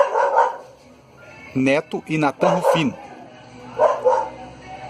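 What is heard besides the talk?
dog barking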